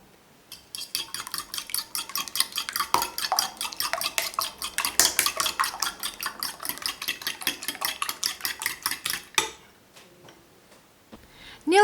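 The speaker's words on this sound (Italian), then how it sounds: "Aggiungo un pizzico di sale e mescolo per farlo sciogliere" A utensil stirs a pinch of salt into beaten whole egg in a bowl, giving rapid, rhythmic clinking taps against the dish that continue steadily before stopping near the end.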